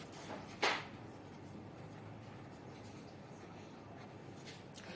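A pen scratches once across paper, drawing a box around a maths answer, in a single short stroke near the start, with quiet room tone after.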